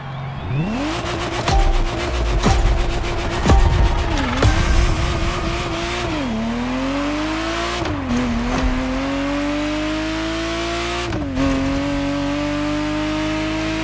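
A Ferrari Testarossa engine revs and pulls away, its tone rising through several gear changes with brief dips between shifts, loud and close, with a touch of tire squeal at the start.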